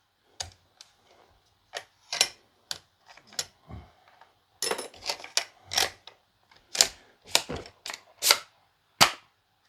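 Sharp mechanical clicks and snaps from a Milwaukee M18 18-gauge brad nailer as 2-inch brads are loaded into its magazine, arriving in irregular clusters with short pauses, close and fairly loud.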